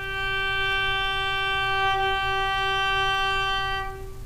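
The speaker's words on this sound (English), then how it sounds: "If they're playing at arco, which means played with the bow, it should sound like this." One sustained bowed arco note rings on the D string of a violin or viola, steady and rich in overtones for about four seconds before fading, played alone and close.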